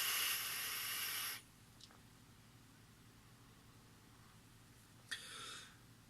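An e-cigarette fired at 70 watts gives a loud, steady airy hiss for over a second, then quiet, with a second short puff-like hiss near the end.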